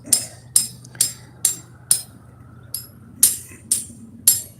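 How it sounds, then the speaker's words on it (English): Hammer blows landing in a steady series of about nine sharp, ringing strikes roughly half a second apart, each with a brief decay, over a low steady hum. "now you see better hammer skills"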